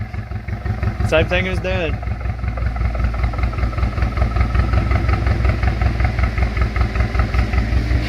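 A 2017 Camaro 2.0 turbo four-cylinder idles roughly with a bad misfire and a dead cylinder, a loud, close, uneven pulsing that runs steadily throughout while someone talks briefly over it.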